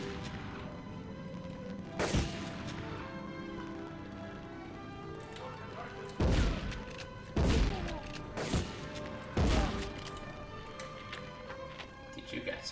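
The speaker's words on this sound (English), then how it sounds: "Did you guys shoot at me?" Gunshots from the video game Medal of Honor crack out in scattered single bursts, several loud reports spaced apart over a quiet, noisy game backdrop.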